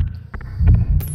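A deep, booming heartbeat thuds through a low hum, with a few muffled double beats in quick succession, close and throbbing, and a brief bright tone near the end.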